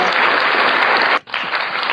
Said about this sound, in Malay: Kita tepuk tangan sikit lah bagi semangat sikit